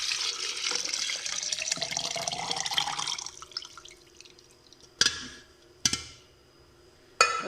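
About 1 kg of milk poured into a container for a banana milkshake, a steady splashing pour for around three seconds that tapers off, followed by three sharp knocks or clunks.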